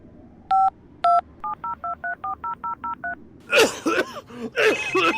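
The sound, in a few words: phone call signal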